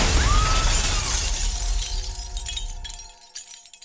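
Glass in a lighthouse shatters loudly as someone is pushed through it, a heavy crash fading into scattered tinkling shards and small clinks.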